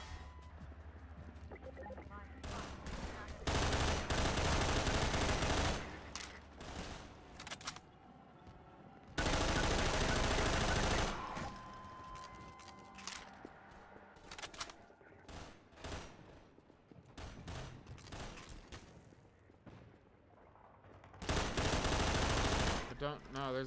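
Bursts of automatic gunfire in the Half-Life game The Burton Equation come as several loud, sustained volleys separated by quieter stretches, with a player talking between and over the shooting.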